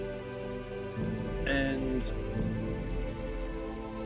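Steady rain falls with a continuous soft patter and hiss under a tabletop game session, while a voice speaks briefly over it and low tones hum beneath.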